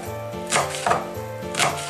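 Fresh mint leaves, stems removed, being finely chopped with a knife on a board: a few clustered bursts of quick, close knife strikes against the wood, with soft pauses in between.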